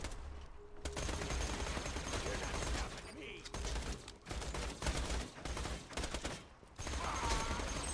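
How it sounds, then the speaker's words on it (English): Rapid bursts of fire SMG gunfire from Borderlands 2 rattle almost nonstop, loud and dense, with brief pauses between volleys and busy game effects layered underneath. "I'm happy I got this fire SMG."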